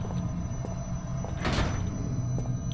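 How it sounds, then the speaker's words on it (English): A door in the horror game Penumbra: Black Plague gives one brief scraping, sliding noise over a low steady background hum, with a few faint clicks scattered around it. "That door's still locked."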